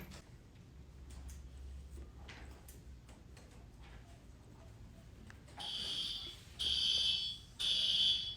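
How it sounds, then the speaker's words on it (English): A fire alarm goes off indoors, starting partway through as three loud, shrill electronic blasts separated by short gaps, rising over a quiet room with faint shuffling. "Wait, is that alarm going off?"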